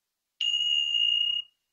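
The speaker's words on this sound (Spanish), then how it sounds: "Miren, esta campana la utilizo para la meditación" A single meditation bell is struck once, giving a clean, bright, sustained tone that rings steadily for about a second and then cuts off, with no voices.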